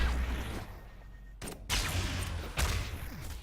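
Rockets fire in a ShootMania competitive match, with two sharp bursting blasts about a second apart over a low, noisy game background, fairly close and loud.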